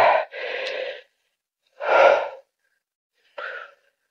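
A tired hiker on Palawi Island breathes heavily from exertion, legs aching: three separate deep, breathy huffs with pauses between, close to the listener and moderately loud.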